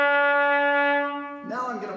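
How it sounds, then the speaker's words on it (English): A trumpet sustains a low C sharp with no slide adjustment, a steady, bright, slightly out-of-tune tone held for over a second before it drops away into a brief voice. "a low C sharp, without moving any slide,"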